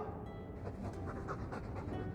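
A Mabari war dog pants in Dragon Age 2, with quick, steady, breathy huffs close by for a couple of seconds, heard alone.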